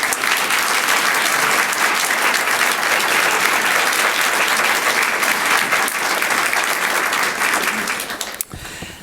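An audience claps for guest speaker Dr. Mary Jo Leddy, loud sustained applause from a full room that carries evenly for about eight seconds, then quickly fades out.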